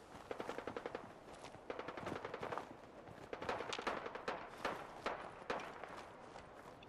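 Rapid bursts of automatic gunfire rattle out in Fallout 4, dense volleys of shots repeating across the whole stretch with brief gaps, fairly close and sharp, with faint footstep-like clatter mixed in.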